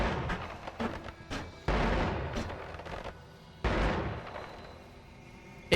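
A spell wand in the Noita video game sprays out bullets in a rapid, crackling stream that breaks into several loud bursts with short gaps between them. The sound comes through clearly with no talking over it.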